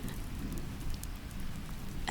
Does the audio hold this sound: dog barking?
no